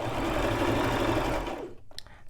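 A Brother LX3817 sewing machine runs a knit blind hem stitch, a close steady motor hum and needle rattle that stops abruptly, followed by a few soft clicks of fabric handling.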